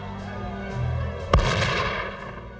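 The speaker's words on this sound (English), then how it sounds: "Then, a shot rang out." A single sharp gunshot cracks once, loud and close, over a steady low background, then its echo tails away over the next second.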